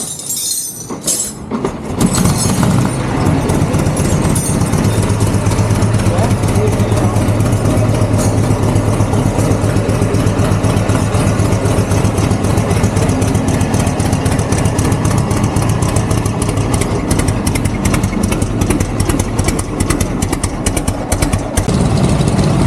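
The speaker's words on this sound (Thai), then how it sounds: "ทีนี้ก็เหลือแค่ได้ลองสตาร์ทกันดูสักที" A rebuilt vehicle engine is started, catching after a brief crank and settling into a loud, steady, close idle that rumbles on without pause.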